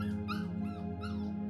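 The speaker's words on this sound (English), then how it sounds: "All these new baby puppies are whining, desperately wanting snuggles." Newborn puppies whine and whimper in a close, steady cluster of soft high-pitched cries over a constant low hum.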